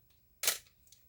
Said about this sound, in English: Let's go through the shutter speeds